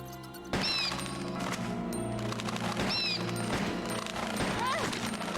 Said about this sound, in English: So if I can shoot the bats without getting injured, then this is successful, and we can take the ammo